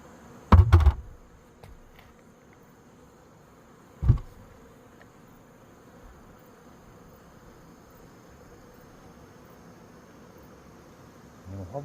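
A hive of densely clustered honeybees hums steadily and fairly close, broken by a couple of loud knocks early on, as if from frames or the box being handled.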